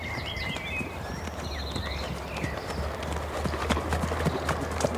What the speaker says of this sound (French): le cheval a fait 9 pas au moment du montoir